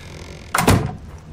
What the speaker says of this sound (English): let's go ahead and close the door